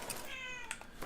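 A domestic cat gives a short meow, close and clear, with a rising-falling tonal cry followed by a fainter second call, no talk over it.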